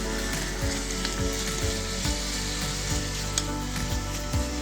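Steady sizzling of Korean spicy chicken stir fry (dakgalbi) frying in a pot, with a few clinks and scrapes of stirring at intervals; no voices.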